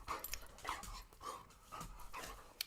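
A pet dog pants close by in steady rhythmic breaths, with faint whimpering mixed in and a small sharp knock near the end.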